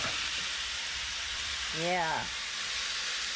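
Dark soy sauce sizzling and frying in a hot pan of fried rice, a steady loud crackling hiss throughout, with a brief spoken word partway through.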